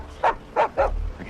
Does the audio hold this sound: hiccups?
no